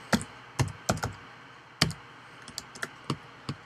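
Player names being typed on a computer keyboard: about a dozen sharp key clicks in uneven bursts, close and distinct against near silence, with no talk.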